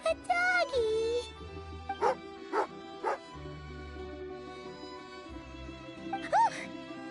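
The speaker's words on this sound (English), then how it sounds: "angry doggy" Dog in the Genshin Impact video game growling and giving a few sharp barks and whimpering yips, spaced out over a steady in-game music and ambient bed, with a voice heard near the start and end.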